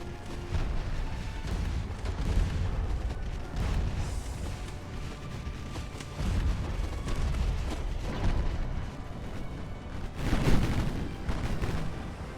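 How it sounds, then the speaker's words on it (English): A squadron of 1890-era warships fires broadsides in Ultimate Admiral: Dreadnoughts, mixing heavy booms with lighter secondary gunfire in a continuous rolling barrage at moderate volume. "Got the entire squadron basically broadsiding him. Some of them even firing their smaller caliber guns at him."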